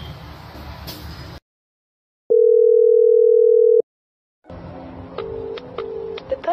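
Telephone call tone: one steady, moderately loud electronic tone lasting about a second and a half. Silence sits on each side, with noisy background sound and short beeps before and after.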